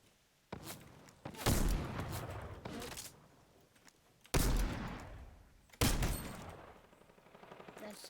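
Gunfire in a video game, with sharp, loud shots in separate bursts spaced a second or more apart, each trailing into a noisy decay, with quieter rumble between.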